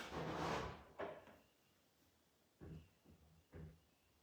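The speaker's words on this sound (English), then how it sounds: "the sound of me shutting the door." A door shutting in an abandoned 1800s manor house: a few quiet thuds and clunks spaced over a few seconds, with near-silence in between.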